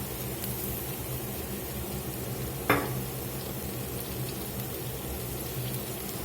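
Tomato puree cooking in a pan for steak pizzaiola with wine, a steady close bubbling sizzle throughout, broken once by a brief sharp clink, with no talking.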